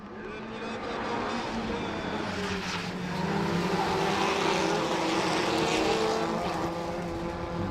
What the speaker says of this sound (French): Nous sommes à bord de la Twingo de Marceau Launay